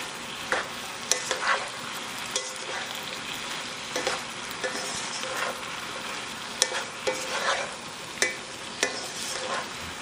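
Mushrooms frying over high heat in a pan for a spinach chicken mushroom rice dish, a steady close sizzle broken by repeated scraping stirs of a spoon, with no talking.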